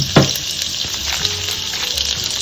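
Garlic and herb butter melts and sizzles in a pan for mussels, a steady close crackling hiss with a few sharper pops and spits throughout.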